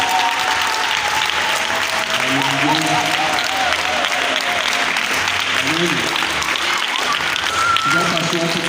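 A church congregation applauds and cheers loudly and continuously, with voices calling out over steady clapping throughout.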